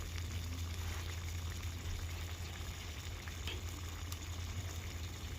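Homemade ginamos, a fermented fish paste, sautéing in a pan: a steady, close sizzle and bubbling hiss that runs unbroken throughout with a low hum beneath and no talking.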